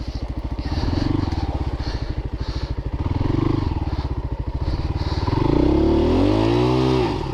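A Christini AWD 250DS all-wheel-drive dirt bike churns through a dug-out mud hole, its engine a loud, close, steady throbbing rumble that rises in pitch toward the end as it revs through.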